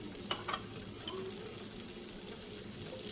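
Butter sizzles and crackles steadily in a hot cast iron pan, a continuous frying hiss with a couple of brief clinks near the start.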